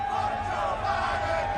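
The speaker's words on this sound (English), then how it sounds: "as you can hear the chants from the crowd" A dense crowd at a Talladega NASCAR race keeps up a steady, rhythmic chant, loud and continuous like massed voices in a grandstand, with no single speaker standing out.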